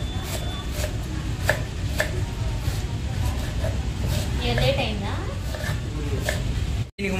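A knife chops vegetables finely for fried rice at a fast food stall, sounding as rapid sharp taps on a board. The taps are heard under steady background noise while people talk.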